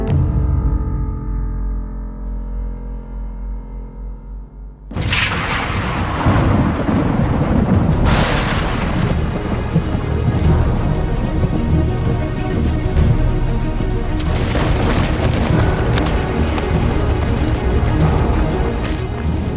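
Dramatized thunderstorm in a forest in the Harz mountains, a soft tonal drone giving way to a sudden loud crash of thunder followed by sustained rumbling and heavy rain-like noise that continues throughout.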